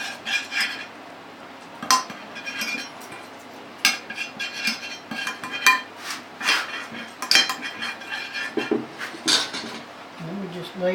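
A glass baking pan is handled while food is laid into it, with repeated clinks and knocks of utensils against the dish at irregular intervals, accompanied by a person talking throughout.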